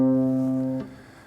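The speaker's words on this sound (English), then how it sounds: "On my viola, the open C's fundamental sounds like this." A single sustained bowed note on a viola's open C string, steady and loud for under a second, then cut off, leaving a faint decaying resonance.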